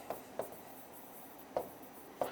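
A teacher's chalk or pen strikes out notes in short, scratchy bursts, four or five quick marks spaced irregularly against a quiet room, close and crisp.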